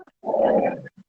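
A small female dog lets out a single rough growling grunt lasting under a second, close and fairly loud, with brief soft vocal sounds just before and after it.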